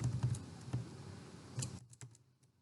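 Keys clatter on a computer keyboard, a few quiet, close clicks and short bursts of typing spaced irregularly, then a brief pause before a last couple of taps.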